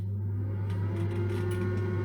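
A Magic Bullet air fryer running steadily, giving off a constant low mechanical hum with a fan whir that stays even from start to finish, with no voices.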